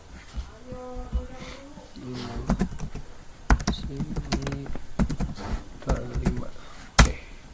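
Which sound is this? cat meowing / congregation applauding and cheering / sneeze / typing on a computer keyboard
typing on a computer keyboard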